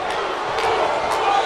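A dense, continuous arena crowd roars in the WWE 2K19 wrestling video game, a broad wash of cheering with no distinct individual voices.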